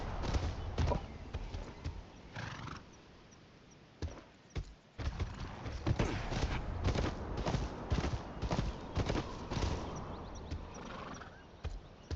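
Horse hooves clip-clop in the video game Game of Thrones: Kingsroad as a summoned horse walks, a rhythmic run of soft thuds layered over busy game ambience, with occasional louder knocks.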